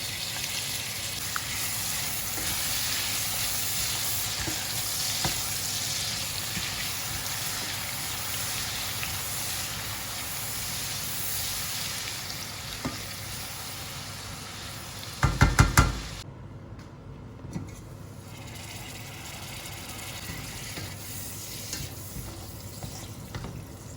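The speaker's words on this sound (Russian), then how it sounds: "Закрываю крышку, периодически помешивая, жарю лук до бледно-золотистого цвета." Onions fry in a sauté pan for a lamb offal roast, a steady soft sizzle with brief clatter of a lid and utensil partway through before the frying quiets.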